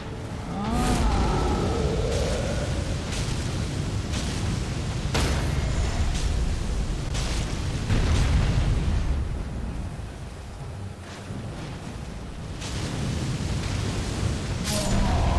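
Flamethrower built into a shield firing in Elden Ring, a continuous loud roaring whoosh of fire with repeated bursts and thumps, sustained throughout.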